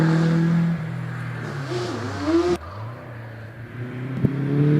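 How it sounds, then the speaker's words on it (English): A Chrono race car climbs the Doune hillclimb course, its engine droning loud and near with rising and falling revs through gear changes, then a sharp shift in tone as it passes, and another roaring acceleration building at the end. "watch out for this car coming up, Simon Bainbridge in the amazing chrono"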